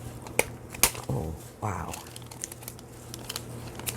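Scissors cut through a paper window envelope with a few crisp snips and rustling, crinkling paper. A person briefly exclaims between the cuts.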